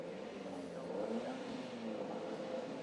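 Ginetta Junior race cars idle and blip their engines on the staggered starting grid at Snetterton, a low steady rumble heard from a distance with occasional mild revs and no voices.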